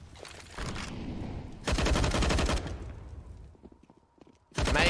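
Rapid AUG rifle fire in a Counter-Strike match on the Nuke map, sharp repeated bursts with gaps of quieter game ambience between volleys.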